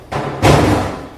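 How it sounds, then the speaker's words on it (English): A removed kitchen cabinet door laid down in a room, making a loud, close thump followed by a second heavier knock and a short rumbling decay, with no talking. "I put the door down."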